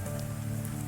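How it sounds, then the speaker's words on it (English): Heavy rain hammers steadily on a roof, a dense, unbroken wash of sound with a low hum beneath it. "The rain hammered on the roof,"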